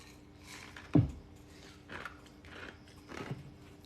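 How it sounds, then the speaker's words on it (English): Ice being chewed, giving a few crunchy bites spread over a few seconds with one sharp louder crunch near the start, close and fairly quiet. "A little ice chewing just for you"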